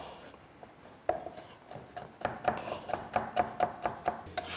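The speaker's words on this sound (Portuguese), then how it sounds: "E depois nós vamos picar essa cebola bem pequenininha." Knife chopping an onion into small pieces on a board, starting with a few scattered taps, then settling into a fast, even run of sharp close cuts.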